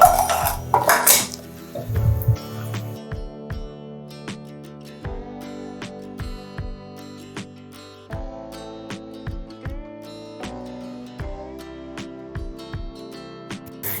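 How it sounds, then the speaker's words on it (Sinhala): Aggala dough being mixed with pounded rice flour in a pot, giving repeated clinks and scrapes of a spoon against the pot, steady and close, with no talk. "ඉතින් දැන් මෙන්න මේ විදිහට අපිට පුළුවන් හොඳට මේ අග්ගල එක මිශ්‍ර කරගන්න"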